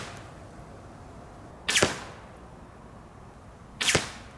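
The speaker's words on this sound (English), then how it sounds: "The Nitro XRT can launch the 370 grain Pro Light arrows at a record-breaking 470 feet per second." TenPoint Nitro XRT crossbow firing 370 grain Pro Light arrows, two sharp snapping shots about two seconds apart, each a loud crack with a quick whoosh against a quiet outdoor background.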